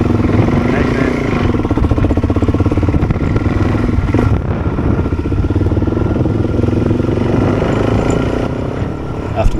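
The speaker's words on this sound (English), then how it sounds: "And I try and start the bike forgetting that I've left it in gear." A Suzuki DRZ 400 motorcycle left in gear as someone tries to start it, its engine clattering and chugging loudly and steadily throughout with some revving, close by, with a voice speaking over the noise.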